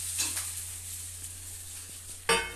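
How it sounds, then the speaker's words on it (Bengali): Pointed gourd (potol) frying in a pan at home, a soft continuous sizzle with a few faint utensil touches and a sharper clatter near the end, no talking. "এখানে টিকুবাবুর জন্য একটা পটল ভেজে নিচ্ছে"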